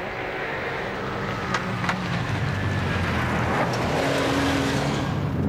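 A Porsche 911 rally car races along a stage of the 1998 Scottish National Rally. Its engine note holds loud and steady as the car drives past, with no voices.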